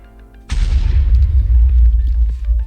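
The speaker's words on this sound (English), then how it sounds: "it could be detonated from 4 blocks height fall" A Minecraft TNT minecart detonates after a four-block fall, one sudden loud boom followed by a deep, rumbling roar that carries on to the end.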